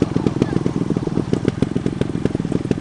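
Motorcycle engine running just after a cold start, a steady close, loud, throbbing exhaust beat with rapid regular pulses and some clatter, continuous throughout.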